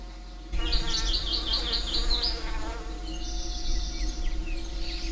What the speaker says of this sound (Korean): 꿀벌은 길쭉한 수술에 매달려 꽃가루를 얻고 이 과정에서 자연스럽게 수분이 이루어진다.